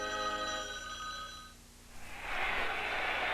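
A telephone bell rings in a 1979 TV commercial aired during a football broadcast, a bright sustained ring lasting about a second and a half that gives way to a burst of hissy noise, with no voices.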